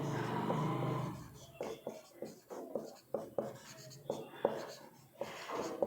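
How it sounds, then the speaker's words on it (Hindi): Chalk or marker taps and scratches across a board in short, irregular strokes, close and moderately quiet, after a brief stretch of someone talking at the start. "मैं यहाँ पे लिख देती हूँ"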